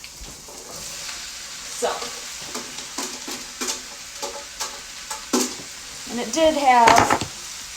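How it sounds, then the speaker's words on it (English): Sautéed vegetables and tomatoes for pasta primavera hiss and sizzle in olive oil in a wok, with repeated stirring scrapes and clatters; a person speaks briefly near the end. "I'm going to pop these and the tomatoes into the wok."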